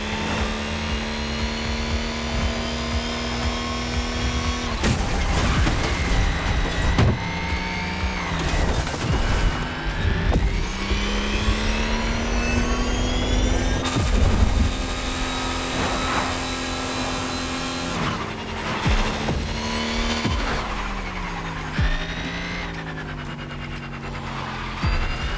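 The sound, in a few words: BMW M5 Drift Edition drifting in video game The Crew Motorfest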